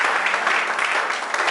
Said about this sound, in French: Est-ce qu'on peut acclamer s'il vous plaît?